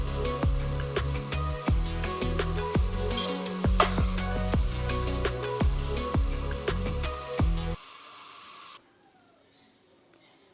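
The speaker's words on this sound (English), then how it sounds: "Drain the oil." Hot oil drips and crackles as fried vegetables are lifted from the pot to drain, a dense sizzling patter with sharp ticks that cuts off abruptly near the end, leaving near silence.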